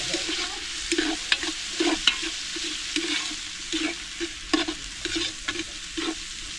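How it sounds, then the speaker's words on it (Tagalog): Hotdogs sauté in a pan, a soft steady sizzle broken by repeated scraping and clattering stirs at an irregular rhythm. "Gisa natin ang hotdog"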